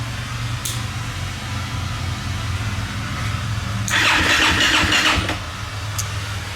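KTM 250EXC-F dirt bike engine cranking on a low battery, a steady starter drone with a louder, harsher burst of sluggish cranking near the end, heard close with no talking.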